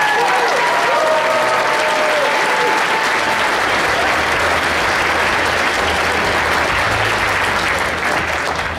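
A conference audience bursts into loud, sustained applause for the arriving speaker, dense clapping filling the room with some cheering and shouts near the start.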